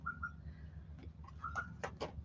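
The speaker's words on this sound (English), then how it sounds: "And you get all the birds in the trees" Birds calling in garden trees, a few short chirps and faint high notes scattered over steady low background hum, moderately distant.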